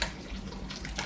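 Copper-coloured dye poured into a pot of wool yarn, a steady, close and fairly loud watery splashing that runs through the whole brief moment.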